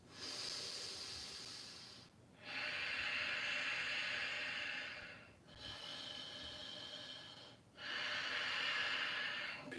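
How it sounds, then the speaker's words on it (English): Three deep, forceful yoga warrior breaths, each a long, hissing rush of air lasting a few seconds and separated by short silent pauses, close and clear with no talking. "2 more strong warrior breaths"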